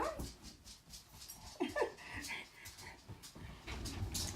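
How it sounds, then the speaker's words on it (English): Brandy and Radar, small Dachshund-Chihuahua mix dogs, whimper and yip softly nearby in a series of short, high whines, while a person speaks briefly over them. "My dogs are in here."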